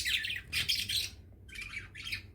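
Caged lovebirds squawking and chirping in four shrill bursts with short gaps, close and moderately loud, with no voices.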